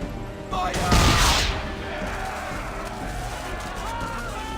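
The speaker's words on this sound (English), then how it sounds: "Hit those old powder barrels and light up the sky." Swivel gun fire and powder barrel explosions in the Assassin's Creed III naval game: a loud explosive blast around the first second, followed by a sustained rumbling crackle under background game music and effects.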